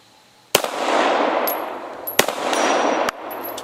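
Shots from a CZ 75 Compact 9mm pistol fired at a target: three sharp, loud cracks spaced over a few seconds, each followed by a long outdoor echo and a faint metallic ping of impact.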